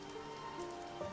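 Steady rain patters on a roof as an ambience bed, soft and continuous at low volume with no voices, a faint brief knock near the end.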